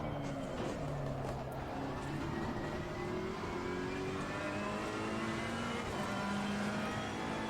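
Ferrari race car engine in Assetto Corsa Competizione at the Hungaroring, a continuous revving whine rising and falling through gear changes, steady and fairly quiet with no pauses.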